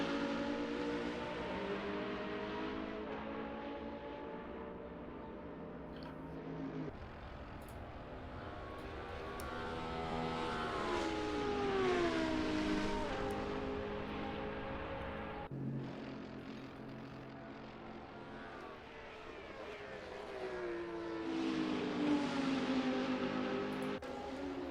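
Race car engines at Road America in a sim racing GT series, an Audi and a McLaren among them, with revving engines rising and falling in pitch through gear changes as cars pass, steady and continuous with no voices.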